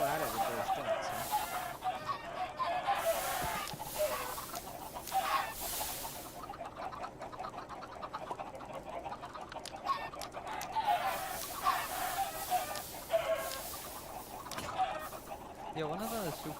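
Game chickens and other fowl cluck and honk continuously at close range, a busy layered flock with bursts of louder calls and some voices mixed underneath.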